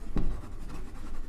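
Pen writing on paper during a maths lesson, a short scratchy stroke followed by steady soft scribbling, close and fairly quiet.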